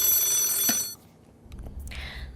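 A telephone rings in a quiet studio with a bright, steady electronic tone for just under a second, then cuts off, leaving faint background noise and a few soft clicks.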